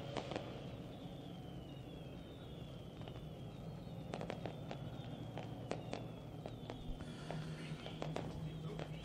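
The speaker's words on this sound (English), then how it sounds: "I want to thank Lone Wolf Fireworks lighting up the sky." Fireworks burst over a dirt track speedway at night, a scatter of sharp cracks and pops that comes faster and denser toward the end, some crackling, heard at a distance over a low crowd murmur.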